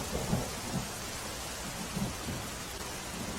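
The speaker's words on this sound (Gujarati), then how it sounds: "ધરમપુરના જંગલ વિસ્તારમાં ધોધમાર વરસાદ થઈ રહ્યો છે" Heavy monsoon rain falls across the Dharampur forest area in Valsad, Gujarat, a dense continuous hiss with low rumbles of thunder rolling underneath at intervals, steady and without voices.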